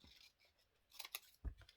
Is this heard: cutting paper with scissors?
yes